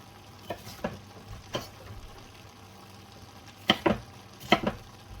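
Peppers and celery frying and being stirred in a pan for a British Indian Restaurant base gravy, a soft steady sizzle under a few sharp scraping stirs, quiet and close with no voices.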